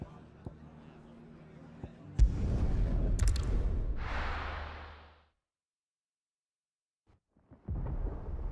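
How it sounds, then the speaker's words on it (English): In Final Fantasy XVI, a sudden thunder crack bursts in, then rolls into a deep rumble that lasts about three seconds and fades into silence. A quieter low rumble returns near the end, with faint ambience before it. "Sounds like thunder."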